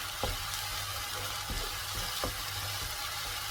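Paneer gravy masala sautéing in a pan gives a steady, close sizzle and fry hiss, with a few soft stirring scrapes at an even pace and no voices.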